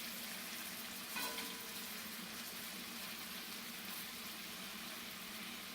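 Butter sauce sizzles around lobster tail in a hot pan, a steady close crackle with a brief brighter spatter near the start and no talking.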